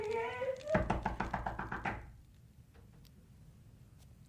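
A rapid series of about eight loud knocks on a door in a BBC radio drama of Dickens' The Haunted Man, heard just after a voice cries out, then quiet.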